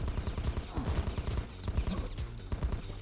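Rapid gunfire from a fast-shooting gun in the top-down shooter Top Dog, a dense stream of quick sharp shots overlapping in a continuous rattling burst, close and loud.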